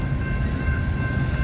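Heavy CSX freight train number 332 labors slowly up a grade on the Old Main Line, a loud, steady rumble of engines and rolling cars with a faint high whine.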